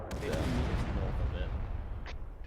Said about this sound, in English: Sounds like a saturation barrage to me.